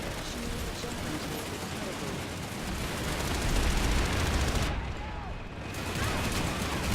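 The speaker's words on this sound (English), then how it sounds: "Oh, the Cindy's shooting at me." Enemy gunfire in the Planetside 2 video game, a dense, continuous clatter of shots and battle noise, with a heavier swell midway and a brief dip in the high end near the end.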